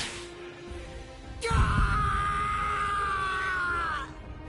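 A man in the anime Bleach lets out a long, strained scream of pain, rising sharply after a quieter groan and holding steady for several seconds before cutting off.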